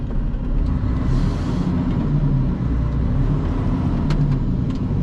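A vehicle with an automatic gearbox drives through the northern districts of Marseille, a steady low engine and road rumble heard from inside, with faint brief clicks and hisses.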